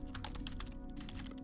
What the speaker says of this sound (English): Let me type things out.